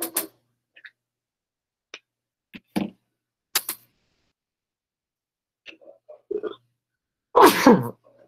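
A single sharp sneeze bursts out near the end, loud and close, after a stretch of quiet broken only by scattered small clicks and taps during a calculus class.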